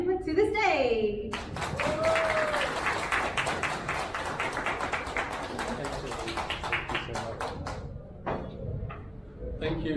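An audience claps warmly at an annual dinner as a speaker is welcomed to the stage, steady applause filling the room for about seven seconds before tapering off.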